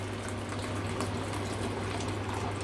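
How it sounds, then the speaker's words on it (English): Hot boiled water pours from a kettle into a pan for a single-serving meal, a steady close gush of liquid running without pause and no talk over it. "We're gonna add the hot water in now and see how thick we can make it."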